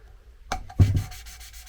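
Valve being lapped into a VW T3 TDi cylinder head, giving two short scraping rubs close up, the second louder and longer with a gritty grinding tail.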